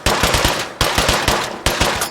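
Rapid bursts of AK-style rifle fire in State of Decay 2, loud and close, with three quick clusters of several sharp shots each separated by brief gaps, no voices.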